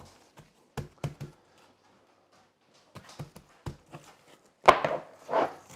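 Hands patting dry rub into beef ribs, giving soft, close, irregular taps in small clusters with quiet gaps between them, then a louder pair of slaps near the end.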